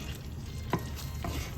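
Frozen pinakbet vegetables, including okra and bitter melon, are stirred in a sizzling pan, a couple of scraping stir strokes over a steady frying hiss.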